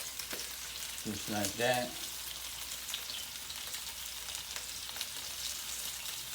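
Meatballs sizzle and fry in a Power XL air fryer, a steady hissing crackle throughout with brief clatter as they are turned, and someone speaks briefly.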